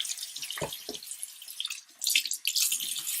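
Tap water runs and splashes while makeup brush bristles are wetted under it, with two brief low thumps early on, then a louder, fuller gush of water near the end.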